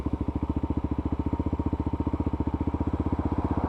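A lightweight adventure motorcycle idles steadily and close, its single engine thumping in a fast, even pulse with a light mechanical clatter and no voices over it.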